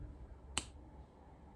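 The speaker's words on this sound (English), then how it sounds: "I swear for the life of me, I do not know how to snap my fingers." A single quiet finger snap, a short sharp click heard on its own in a hushed room.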